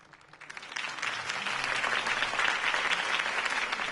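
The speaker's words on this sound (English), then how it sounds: "could have heard that applause" Applause from a crowd swells in within the first second and then holds steady and loud, a dense wash of clapping with no voices rising above it.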